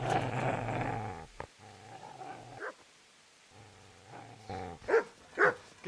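In Kingdom Come: Deliverance, a dog growls low and steadily at first, then breaks into a few sharp, close barks and yips separated by short pauses.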